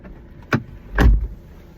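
A car door being shut, a short click followed by a heavier, solid thud up close, the second impact louder and deeper.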